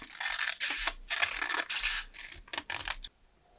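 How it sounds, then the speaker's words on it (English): Close, dry scratchy cuts through a cardboard pattern for a 1:6 dollhouse wicker shelf, arriving in several irregular bursts over about three seconds before stopping, with no talking. "Now we're going to cut out the inside of the pattern for the next step."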